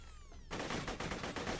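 A rapid burst of assault rifle fire erupts in Borderlands 2 after a quieter opening, with closely spaced shots rattling on loud and near for about a second.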